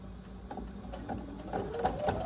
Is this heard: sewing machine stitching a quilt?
yes